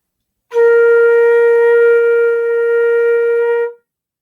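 A flute holds one steady, clear B flat for about three seconds, starting and stopping cleanly, alone with no other sounds.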